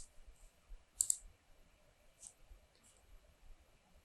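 A few sharp computer mouse clicks in Microsoft Word 2013 on Windows 10, a quick double click followed by single soft clicks, close and quiet over faint background hiss.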